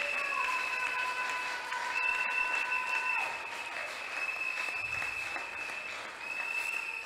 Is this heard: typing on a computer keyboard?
no